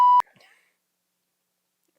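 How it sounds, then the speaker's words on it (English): A single loud, steady censor beep lasting about a fifth of a second, followed by a faint breathy trace and then silence. "I might beep it out if I need to"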